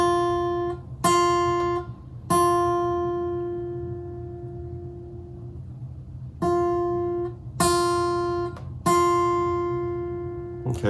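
A guitar's first string, fretted to the note F and plucked with the thumb, sounds repeatedly: three clear strikes, a long ringing decay, then three more, each note sustaining with bright harmonics over low background hum.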